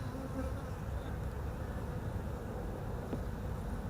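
Honeybees in an open hive during a spring inspection, a dense continuous buzzing hum, close and steady, with no speech.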